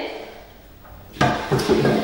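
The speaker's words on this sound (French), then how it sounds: "Donc le tiroir, je vais le mettre de côté." A wooden drawer being pulled out of a piece of furniture and set aside, heard as a sudden scraping knock followed by a couple of sharper wooden clunks, close and fairly loud after a quiet start.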